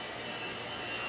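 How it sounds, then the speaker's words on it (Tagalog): A handheld electric air blower, used for clearing sawdust debris from a circular saw, runs with a steady, loud, broadband rushing whoosh from start to end, with no talk. "You can also use this air blower as a vacuum cleaner"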